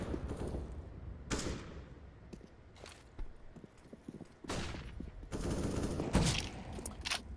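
AK rifle shots fire through a wall in the shooter game CS:GO, several sharp bursts and single cracks spread among quieter footsteps and game noise, no voice over it.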